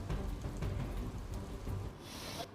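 Heavy monsoon rain falling in Surat, Gujarat, a steady faint hiss of downpour with a brief brighter wash near the end.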